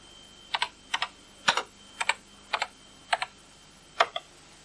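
Typing on a 1983 home computer keyboard: seven short bursts of clicky keystrokes, mostly in quick pairs, spaced about half a second apart, close and clear over a faint hum, with no talking.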